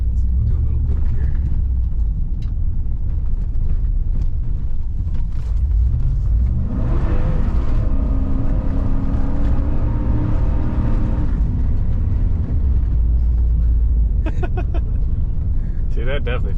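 Car on a casual drive around a park loop, drifting through turns: continuous loud engine rumble and tyre roar that swells and revs mid-way, with occasional voices over the noise.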